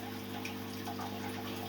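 Water poured into a fry trap in a home fish tank, a steady soft trickle and splash that runs unbroken throughout over a low constant hum.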